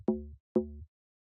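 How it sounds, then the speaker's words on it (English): Two short bassy FM synth stabs built from three sine waves, both on the note D, each with a low thud and a quick decay. They sit close and alone, followed by silence. "We have this more like bassy stab."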